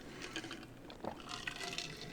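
Iced coffee poured into a big mug, a short faint trickle of liquid with a brief splashing burst in the middle, close and quiet.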